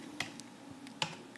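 Light, sparse clicks of typing on a computer keyboard, a few crisp keystrokes at irregular intervals over a soft background hum, with no talking.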